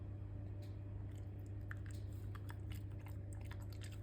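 A dog chews a soft, homemade jelly-like milk chew, giving close, quiet, wet squishy bites and small clicks that come in irregular bursts over a steady low background hum.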